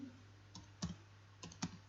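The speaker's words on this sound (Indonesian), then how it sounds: "kita tinggal ketik saja di sini" A computer keyboard is tapped in a short burst of four light, close keystrokes over a faint electrical hum.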